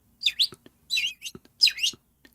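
Three short bursts of bright bird chirps, each a quick rising-and-falling twitter, with soft clicks between them in an otherwise quiet space.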